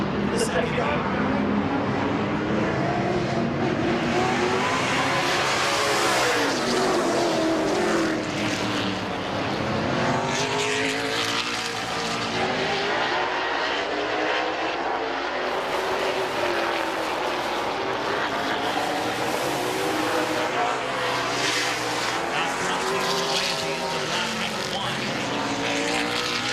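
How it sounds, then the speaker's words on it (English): Late model race cars roar around a speedway in a heat race, engines rising and falling as the pack passes in waves, loud and continuous beneath a commentator talking over the action. "Heat race number 2 for the McIntosh Oil Company late models on track."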